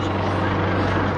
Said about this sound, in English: this helicopter has been hovering up there for a good 45 minutes